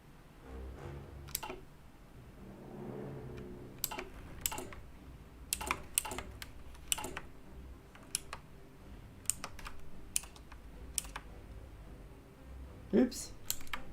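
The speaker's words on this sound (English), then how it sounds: "Clicking my buttons here." Crisp keyboard and mouse clicks come in scattered bursts during a Hearts of Iron IV strategy game session, close and fairly quiet, with a person talking softly underneath.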